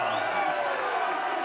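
Weigh-in crowd for Anthony Joshua, boxer from London, UK, facing Dillian Whyte, cheering and whooping in a loud, steady roar that fills the whole stretch without a break.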